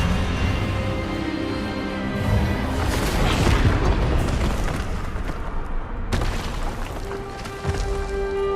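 An Expelliarmus spell is cast in the Hogwarts Legacy video game as a loud, rumbling magical blast that swells and crackles, with a sharp burst cutting in near the end.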